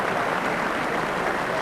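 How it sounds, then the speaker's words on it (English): A crowd at a bowls match applauds, dense continuous clapping at a steady level with no voices. "Tremendous applause from the crowd."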